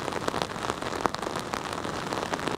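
Steady rain pours during a West Texas washout in San Angelo, making a dense, even hiss of drops pattering on surfaces close by, with no voices.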